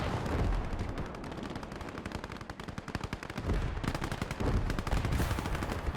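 Anti-tank gun fire against a Maus super-heavy tank in the Gates of Hell war game, set in a loud, continuous battle din of rapid machine-gun bursts and gunfire with heavy booms throughout.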